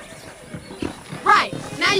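Horses in the Red Dead Redemption video game give short whinnies and snorts alongside soft hoof sounds, with someone speaking throughout.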